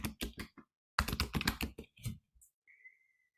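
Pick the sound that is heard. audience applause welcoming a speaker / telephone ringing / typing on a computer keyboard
typing on a computer keyboard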